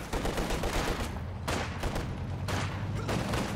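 Engineer infantry open fire in Company of Heroes 2, a 1v1 match with Soviet forces, producing loud, sustained bursts of rifle and machine-gun fusillade that repeat in dense waves.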